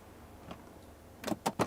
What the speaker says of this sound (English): Aircraft door is now closed